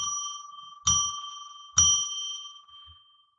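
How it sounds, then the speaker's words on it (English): A bell rung three times to open a tarot reading, each strike a clear bright ding with a long ringing decay that overlaps the next, the third fading out alone. "I'm going to ring a bell 3 times to declare sacred space"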